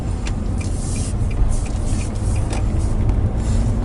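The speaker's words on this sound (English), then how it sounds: "I'm going to pick up speed and go back to gear 3 and then also gear 4" Car engine running steadily while driving, pulling away from a roundabout and building speed through gear changes to third and fourth, with a continuous low rumble and some road noise throughout.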